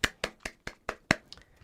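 A string of sharp hand claps, six or seven crisp slaps spaced roughly evenly and close by, with a couple of softer taps trailing off at the end; no talking.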